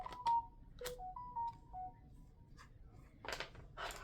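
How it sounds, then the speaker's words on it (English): A phone plays several short tonal notification chimes, a quick series of clean beeps at shifting pitches in a quiet room, followed by a couple of brief rustling clicks. "The phone is so dramatic because I think I just got one notification, but why were there 3 noises for that one notification?"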